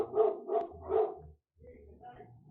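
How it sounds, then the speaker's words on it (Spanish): Small dogs bark in a quick burst of three yips nearby, followed by softer whimpering and low noise as they settle. "ay, disculpen los perritos."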